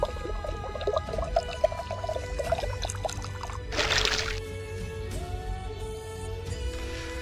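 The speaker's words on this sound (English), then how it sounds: "And we fill our water skin." A water skin being filled in the game Morrowind, heard as continuous pouring and trickling water with a gurgling burst midway, set against a steady tonal game music bed.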